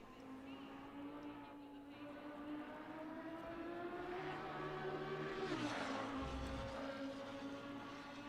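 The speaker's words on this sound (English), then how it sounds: "Screaming Ferrari engine under the bridge" A Ferrari race car engine screams at high revs in a PS5 racing game at Monza, passing under a bridge; a steady sustained whine that climbs, dips slightly, then surges with a brief rush of noise.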